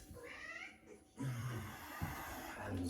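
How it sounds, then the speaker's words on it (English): A house cat meows and vocalizes close by, a few drawn-out calls over quiet room tone, with no talking. "Don't mind the cat either."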